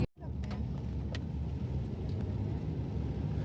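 Car driving through the streets of New Haven, Connecticut, heard from inside: a steady low engine and road rumble with a few faint clicks, fairly quiet and continuous.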